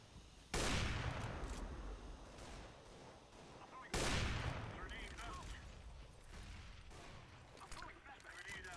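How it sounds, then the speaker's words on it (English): Gunfire through smoke on the Mirage map in the video game CS:GO. Two loud, rolling bursts of automatic fire ring out a few seconds apart over a continuous game background. "Shooting through the smoke."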